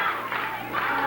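A wrestling crowd at a televised Memphis Christmas show cheering and yelling in a dense, continuous roar that swells slightly toward the end.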